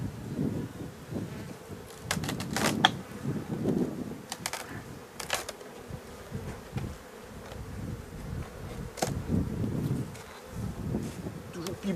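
Honeybees buzz in a dense, close swarm as a beehive super is lifted off, with sharp knocks and scrapes of the hive tools cutting through the humming; a voice speaks intermittently underneath.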